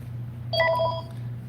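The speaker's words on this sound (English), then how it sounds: "Sorry about the loud ringing phone here" Telephone ringing in a bike shop, a brief bright electronic ring over a constant low hum, heard once and alone.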